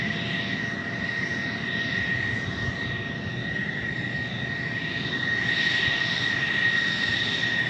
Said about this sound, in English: I think we got a King Air landing